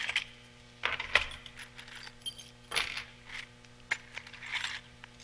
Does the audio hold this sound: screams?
no